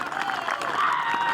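Home crowd at the Northwest Arkansas Open golf tournament applauding and cheering for the champion, a short burst of steady clapping and a crowd roar heard up close.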